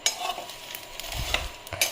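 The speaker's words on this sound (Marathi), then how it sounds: "खडा मसाला, हा व्यवस्थित कमी गॅसवर परतवून घेते मी." Whole spices (khada masala) are stirred and roasted in a pan on low gas, giving a close, soft scraping and light sizzle with irregular stirring strokes and no talk.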